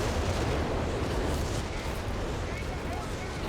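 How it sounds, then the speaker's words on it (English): A Whiz Bang rocket barrage in Company of Heroes 3 makes a dense, continuous roar of blasts and crackling impacts. It stays loud and unbroken throughout, with a voice faintly beneath. "Okay, whiz bang, getting a couple rockets to pin there."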